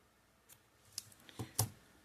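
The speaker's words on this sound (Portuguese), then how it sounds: "Vou cortar esse aqui também." Scissors snip through material for a crocheted bathroom set rug in a few quiet, separate cuts, the last two sharper and louder, with no talking.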